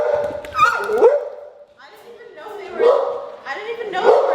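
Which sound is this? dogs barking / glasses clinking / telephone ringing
dogs barking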